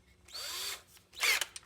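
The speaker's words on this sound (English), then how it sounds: "we're going to put it in this drill here" A power drill spins a homemade bolt-and-nut arbor during restoration of a Motorola SK33W stereo console, two short whirring bursts close by, the second one louder.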